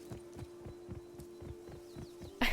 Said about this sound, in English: I was hearing boar footsteps trudging along